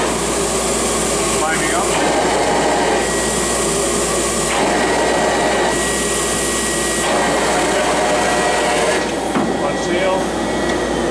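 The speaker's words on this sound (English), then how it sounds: "I'll turn the blower on in manual here" LNS Blaze U48 air uploader with its blower switched on in manual mode, a loud steady whooshing roar running throughout, someone speaking briefly over it.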